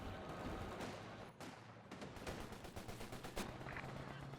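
Mortar barrage in Company of Heroes 2: repeated distant thuds and crackling impacts in a dense, rumbling battle, faint and irregular, with a brief lull partway through.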